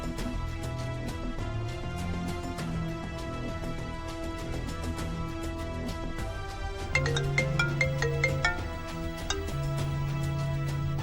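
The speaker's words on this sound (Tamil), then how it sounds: "இப்ப எதுக்கு ஹாசினி தொடர்ந்து கால் பண்ணிட்டே இருக்கா? போனை எடு துர்கா." A melodic mobile ringtone plays continuously, its repeating tune running on for the whole stretch with a brief change partway through as the incoming calls keep coming, steady and fairly loud with no talk.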